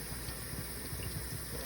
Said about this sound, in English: Rinse it off with cold water right here.